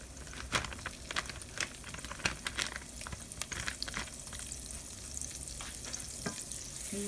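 A stick of butter melting in a hot pan as the base for an alfredo sauce, giving a steady soft sizzle with crackling pops and a few louder spits throughout, close by with no talking.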